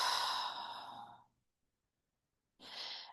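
Close, soft breathing during meditation: a long audible exhale that fades into silence, followed by the start of a fresh breath.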